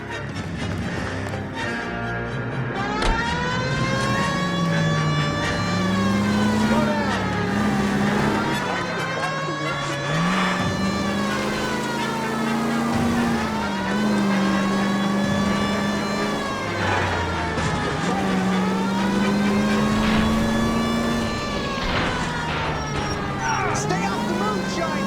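Car engine in the L.A. Noire video game, a steady near drone that revs up and down repeatedly as the vehicle is driven, with a siren-like tone and background game sounds throughout.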